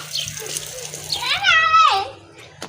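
Tap water runs and gushes in a domestic setting while children fill water from a motor-fed supply, a steady close splashing stream under overlapping children's and adults' voices.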